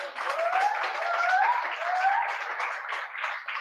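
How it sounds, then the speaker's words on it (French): Audience applause for a pianist at a church gathering: a dense, steady patter of clapping that swells and holds for several seconds, with a faint sustained tone running beneath it. "Est-ce qu'on peut acclamer pour le pianiste qui a..."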